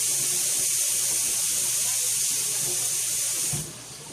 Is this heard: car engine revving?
no